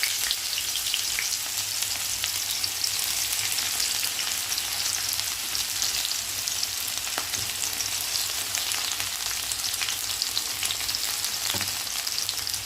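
Onion and garlic frying in olive oil with dried chillies, a steady, loud crackling sizzle that stays even throughout, close up and with no voices.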